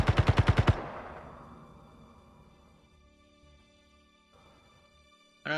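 A rapid burst of about eight loud, evenly spaced shots from an enemy in a video game, then a long ringing decay into quiet hum, with a soft rumble later and a sharp new noise at the very end.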